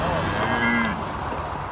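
Cattle from a 3,000-head herd on a 40,000-acre prison ranch low out in a single clear moo, near and steady over a background of open-air noise.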